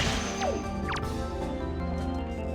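Glass shattering in the video game The Legend of Zelda: The Wind Waker, a sharp crash with quick swishing effects over a continuous layered game soundtrack.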